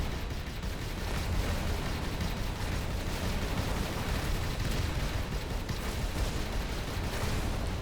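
A spaceship blows apart in the space game Avorion, a dense, sustained roar of explosive rumble and crackling bursts that fills the whole stretch at steady loudness, with no talking.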